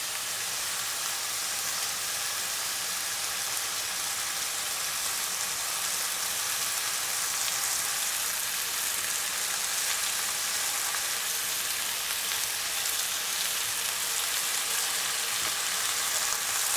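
Mule deer gnocchi fry in olive oil with a steady, dense sizzle and crackle that holds evenly all the way through, close and fairly loud, and no voices come in over it.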